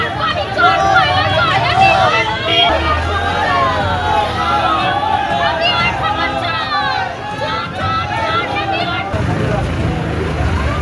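A crowd in Bardhaman Dakshin shouts a 'chor chor' (thief) slogan at former Trinamool MLA Khokan Das, a dense continuous roar of overlapping voices that holds loud and steady for the whole stretch.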